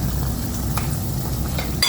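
Lumpiang shanghai spring rolls frying in shallow oil, a steady dense sizzle and crackle running throughout, with a brief utensil clatter near the end.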